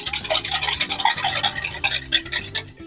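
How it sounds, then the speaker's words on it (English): Cheese Buldak ramen noodles are stirred together with their sauce packets in a bowl, making a loud, continuous wet squelching and scraping in quick repeated strokes, close up and with no talk. "So now we're gonna mix that up. Mix it up real good, right?"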